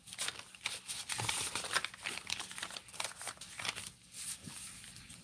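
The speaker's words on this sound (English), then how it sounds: "Just doing fussy cutting." Scissors fussy cutting paper for a junk journal, giving close crinkly snips and rustles in uneven bursts with short pauses between.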